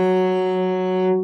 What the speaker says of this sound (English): F sharp sounds like this for cello.